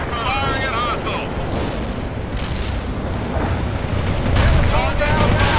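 Dense gunfire rattles continuously through a battle in the video game World in Conflict, a Bradley vehicle engaging hostiles, growing heavier toward the end with radio-style voices faintly mixed in.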